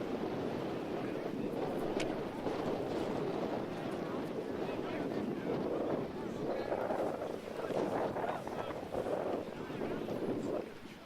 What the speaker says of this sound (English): difficult conditions here in the wind for the kickers